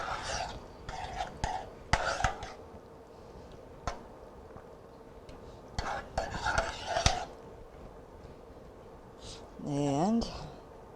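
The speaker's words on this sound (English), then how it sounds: "Mix it well." A spoon stirs a mixture in a pot on low heat in a home kitchen, with scattered metallic scrapes and clinks against the pot in short bursts and soft talk in between.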